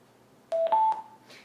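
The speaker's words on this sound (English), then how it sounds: "that is a notification saying that there is not a Bluetooth connection present at the time being" A FRESHeTECH All-Terrain Sound Bluetooth speaker gives its no-connection notification, a short close electronic tone sequence of two or three beeps, followed by a faint trailing sound.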